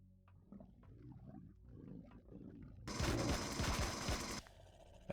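Gunfire in the sci-fi survival game Empyrion Galactic Survival: after a quiet stretch of game ambience, a loud burst of shots blasts out for over a second, then cuts off abruptly.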